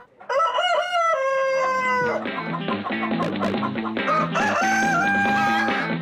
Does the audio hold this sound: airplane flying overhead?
no